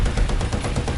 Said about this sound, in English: I just shot at a bush.